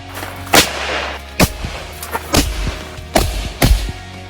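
Gunshots ring out at the Ridge Racer Ohio shooting competition, five sharp, loud reports spaced unevenly about a second apart, each with a brief boom and tail, with no talk.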